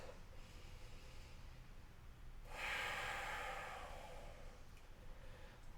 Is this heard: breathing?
yes